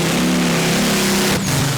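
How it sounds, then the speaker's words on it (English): A tractor puller powered by a Rolls-Royce Griffin aero engine roars at full power at a European tractor pulling championship, a loud, steady, droning howl that holds throughout before a brief dip near the end. "It's a Rolls-Royce Griffin engine."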